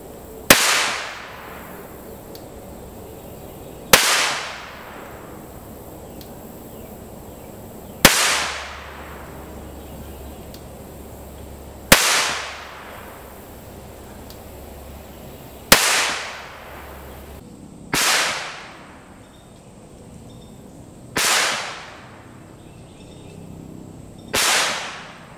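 Volquartsen Black Mamba .22 pistol fired outdoors, seven sharp single cracks spaced roughly three to four seconds apart, each trailing off in a short echo, loud and close, no talking.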